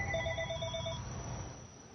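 A telephone ringtone trills in a short repeating electronic pattern, close and clear over a low background hum, with no one speaking.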